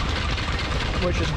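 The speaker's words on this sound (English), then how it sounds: "Powered by a Lister Junior engine here" A Lister Junior engine runs a flat-belt-driven stone crusher at an agricultural show in Kirriemuir, Scotland, giving a steady, close, rumbling drone with no breaks while someone talks over it.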